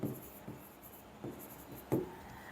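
Marker or chalk writing on a board during a differential equations lesson, a few scratchy strokes at about half-second intervals, the last one loudest, close and fairly quiet with no talking.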